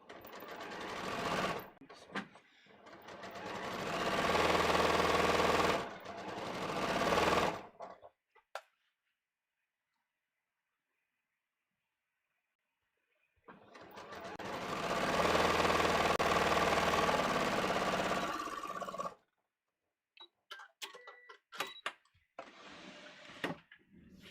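A domestic sewing machine stitching contoured pants with a two-piece back leg, running in steady whirring bursts with a long pause between, then short stops and clicks as the sewing finishes.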